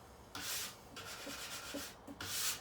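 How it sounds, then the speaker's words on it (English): A plastic scraper rasps along a ski base, stripping excess wax and dirt in several short, close strokes with brief pauses between them. "So I typically like to just scrape my ski a little bit, get any excess wax and dirt that's on it off"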